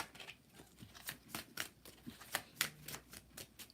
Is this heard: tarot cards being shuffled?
yes